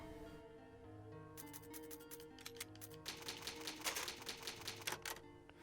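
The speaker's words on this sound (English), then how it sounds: "typewriter save my progress" Typewriter keys clacking in the Resident Evil save room, bursts of rapid sharp strikes starting after a quiet lead-in and growing denser, faint and alone over a soft tonal background.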